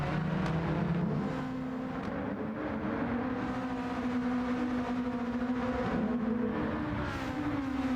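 Race car engines in the Gran Turismo 7 sim racing game, several cars droning and revving continuously with shifting engine pitch, loud and close throughout.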